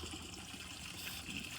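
Water tipped gently from a bucket into a garden fish pond, a soft continuous trickling and splashing pour, faint and steady with no talk.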